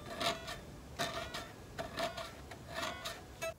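Rough, unpolished frets on a Harley Benton DC-Junior FAT electric guitar scratch under string bends, giving several rhythmic rasping scrapes over a faint sustained note, close and quiet.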